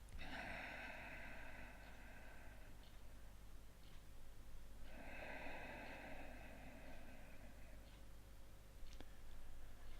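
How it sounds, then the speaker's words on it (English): Two long, slow inhalations through the nose, each a soft airy rush lasting a couple of seconds, recorded close and quiet against a faint steady hum. "So, here we go, deep breath."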